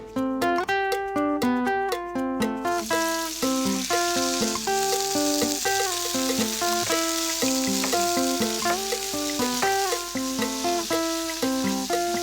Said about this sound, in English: I'm going to brown the meat